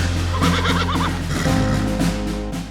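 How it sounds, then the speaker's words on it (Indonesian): A Sumba horse being readied and trained for the pasola gives a loud, close, quavering whinny, then snorts and shuffles around outdoors. "ini dia nih, kuda ciri khas dari Sumba"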